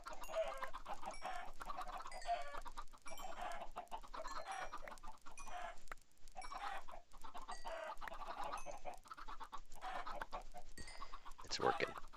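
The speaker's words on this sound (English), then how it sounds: "But we do have a couple of adult chicken here." Chickens in the video game Minecraft cluck in short, repeated bursts that run steadily through the whole stretch at moderate volume, with a brief sharper sound near the end.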